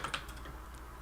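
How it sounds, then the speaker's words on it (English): Keyboard typing at a computer during a late-night stream, a few quick clacks up front and then faint scattered keystrokes over a low steady background hum, with no talk. "Jason click-clacking on the keyboard, just saying."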